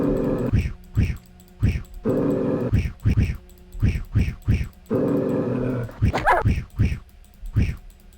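Dogs in the video game Strahd's Possession growl in repeated short bursts, each snarl separated by brief pauses, with a sharper yelp-like outburst near the end, close and loud with no talking.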